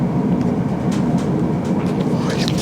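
Loud, steady rumble inside a moving train in London, a continuous low roar of the carriage with faint rattles and clicks, no distinct voices over it.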